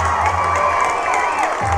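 A large high school football crowd cheers for Northside, with packed student sections giving a loud, sustained roar and shouts that carry on without a break.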